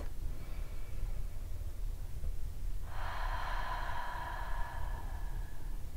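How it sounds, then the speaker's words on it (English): A slow, deep breath drawn in about halfway through and held as a steady airy hiss to the end, close and quiet over low room rumble, with no talking. "Take a couple more deep breaths."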